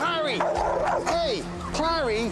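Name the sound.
dog barking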